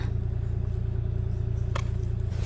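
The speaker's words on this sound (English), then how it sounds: "Oh, look at all these people driving by in their heated cars" Steady low vehicle rumble of cars passing on a snowy road, continuous and fairly close, with a brief clatter partway through and no talk.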